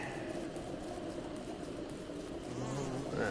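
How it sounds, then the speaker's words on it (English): In the video game Don't Starve Together, many bees in a bee-filled world buzz in a soft, steady drone that runs throughout, faint and continuous with no talk. "This world is just straight up a bee world."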